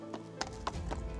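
A horse's hooves strike the ground in a steady clip-clop over a steady background hum, with several evenly spaced footfalls at moderate distance.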